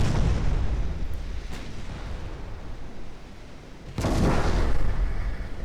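Heavy naval guns and an ammunition detonation from 3.6 inch guns roar in a warship video game, a continuous rumbling barrage that swells into a louder burst near the end.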